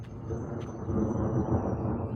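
Rumbling thunder from a severe mesoscale convective storm over Highland County, Ohio: a low, rolling, distant-sounding roar that swells slightly and sustains, with no talk.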